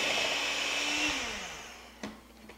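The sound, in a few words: electric mixer mixing lemon olive oil cake batter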